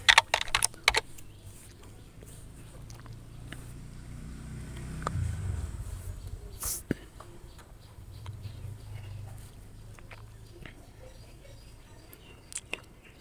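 Someone types an NID card number on a computer keyboard, with scattered clicky keystrokes in small bursts over a low room hum, close and moderately loud, sparse later and with a couple of louder taps near the end.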